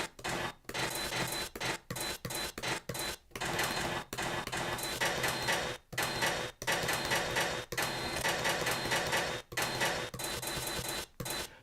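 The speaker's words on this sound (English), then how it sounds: "I'm going to get the copy shop noise. So this is all sounds from a photocopier shop" Busy photocopier shop sounds from a sample pack play through a sampler: rapid bursts of mechanical whirring, rasping and clicking, chopped by short gaps into an uneven, stuttering rhythm, loud and close.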